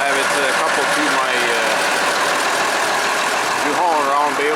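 A Case International 7120 Magnum tractor engine running while coupled to a New Holland BR780 round baler, a loud steady droning rumble with a constant mechanical hum close by, and a voice faintly underneath.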